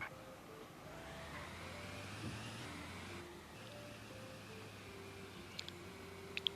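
Car driving in the Sakura School Simulator game, a steady synthetic engine drone with a sustained hum and faint wind-like noise running throughout, steady and moderately quiet, with a couple of brief sharp blips near the end.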